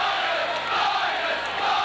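Steady crowd murmur from a large stadium audience at a Leeds versus Oldham rugby league match on New Year's Day 1989, a continuous, dense wash of distant voices without distinct shouts.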